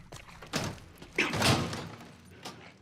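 A door opens in The Last of Us Part 1 with a few scattered thuds and knocks, each short and moderately close, spaced out against a quiet background.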